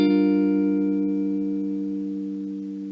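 A guitar barre chord fretted at the 10th fret rings out once and sustains, slowly decaying on its own with no other sounds.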